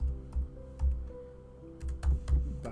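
Keystrokes tapping on a computer keyboard at a desk, a handful of soft clicks in small bursts with short pauses between, close and fairly quiet.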